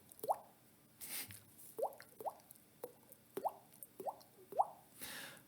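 A human voice imitates bubbling for a music track, making a series of soft, close, wet plops spaced about half a second apart, with a few breathy noises between them.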